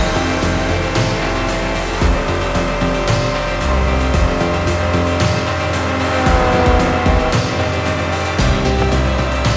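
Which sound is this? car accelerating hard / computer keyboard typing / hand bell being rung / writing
car accelerating hard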